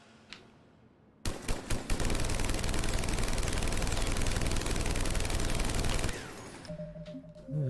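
A weapon in Mass Effect 3 lets loose one long, loud, continuous automatic burst lasting several seconds, preceded by a few single shots, then gives way to quieter game ambience.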